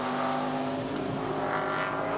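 Ford Falcon race cars circuit a track in a support-series race, engines droning loudly and continuously with rising and falling pitch as they pass, a steady close roar with no speech.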